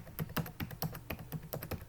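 Rapid keystrokes on a computer keyboard as an ID card number is entered, a close, steady run of crisp clicks with no voices.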